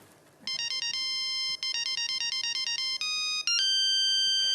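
A phone ringtone playing a song's melody, bright electronic tones in short repeated phrases that turn into sustained notes and get louder near the end, clear and alone.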